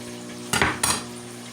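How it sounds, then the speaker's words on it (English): A knife slices through a chunk of pork belly in a pan, giving two short scraping bursts roughly a third of a second apart, set over a faint steady sizzle. "There's my pork belly. I need to slice it because it's having trouble cooking as a chunk."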